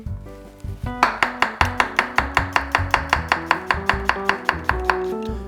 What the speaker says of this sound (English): you're just going to do a quick chop, very thin